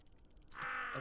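In the video game Tick Tock: A Tale For Two, a raven caws once, a rasping call that follows a brief run of faint ticking pulses.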